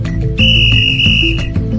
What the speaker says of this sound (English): the sharp sting of a whistle snaps her and Millie to attention